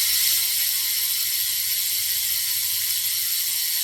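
A Winspace Hyper 50 disc wheel with a Loon performance hub, through axle and center-lock rotor freewheels with a steady, fast, buzzing ratchet whir that runs close and loud throughout.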